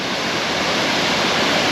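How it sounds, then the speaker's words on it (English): Josephine Falls in Far North Queensland roars in a steady, dense broadband rush of falling water, continuous and fairly loud, with no voices over it. "it's another good view of the waterfall coming down"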